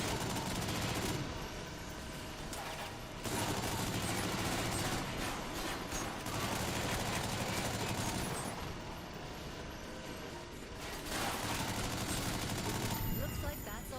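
Sustained heavy gunfire from a mech in a combat video game, dense bursts of automatic fire and explosions filling the whole stretch with brief dips, loud and continuous.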